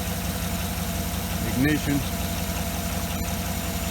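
A GM 6.2L V8 in a 2008 Cadillac Escalade with a stalling-at-idle fault runs at a steady idle, a continuous low hum with a brief tonal blip partway through, while a person talks over it.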